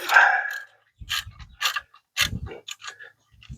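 Ratchet working a bolt on the power steering pump of a 1967 Cougar, an initial rasp and then a series of quick clicking pawl bursts in uneven strokes, close by.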